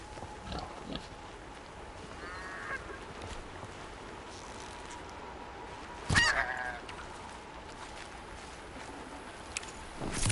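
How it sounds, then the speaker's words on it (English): Goose honks in a PS4 hunting video game, a few faint nasal calls scattered over a quiet, hissy outdoor ambience, with one louder burst partway through and some soft clicks. "Oh, this goose."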